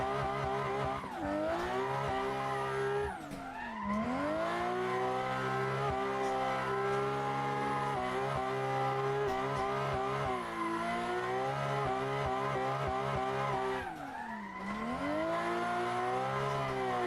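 A car drifting in Assetto Corsa, its engine holding high revs with a rising and falling whine while tires squeal continuously, the pitch dipping sharply twice as the driver shifts or lifts before climbing again.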